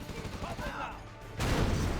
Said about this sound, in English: Oh, artillery comes in. Hits a little bit of the Cyan GLA army there.